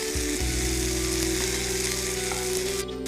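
Chopped tomatoes tipped into vegetables already frying in a pan for a vegetable pizza topping, with a loud continuous sizzle after a brief clatter at the start.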